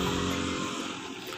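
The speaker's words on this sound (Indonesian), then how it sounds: "mohon maaf untuk suara agak bising karena ini di sebelah jalan" Loud, continuous road traffic noise beside a street outside a shop, with an engine drone that fits a passing motorcycle, dense and close, with no talk over it.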